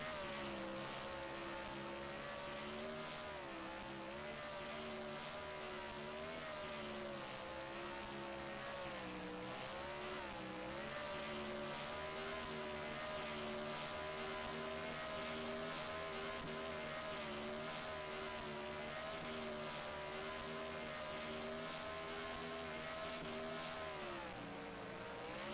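Race car burnout in the NASCAR Racing 2003 video game at Lowe's Motor Speedway in Concord, a loud continuous engine drone with wavering revs and tire squeal holding steady throughout.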